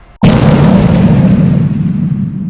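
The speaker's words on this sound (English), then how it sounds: "Bomb drop." A bomb explodes in The Incredible Hulk film: a single very loud, sudden blast swells into a deep, roaring rumble that slowly fades over a couple of seconds.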